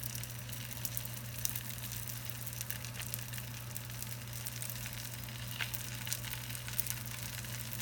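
Tortillas fry in hot oil for enchiladas, giving a steady, close crackling sizzle with a low electrical hum beneath it and small pops scattered throughout.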